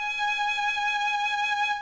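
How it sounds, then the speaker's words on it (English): A single sustained G sharp bowed on a violin in first position, a steady clear tone held evenly for under two seconds, alone. "it's a G sharp, sounds like this"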